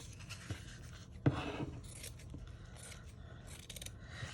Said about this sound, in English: So I'm just gonna cut a little piece out that's big enough to cover the front.